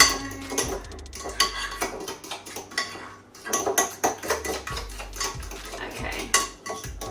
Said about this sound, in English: you want to mix the yogurt and the banana together